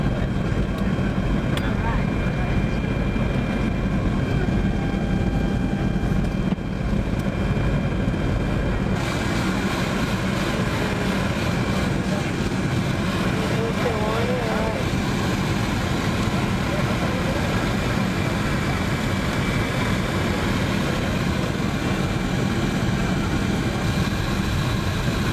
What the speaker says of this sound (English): now we're just landing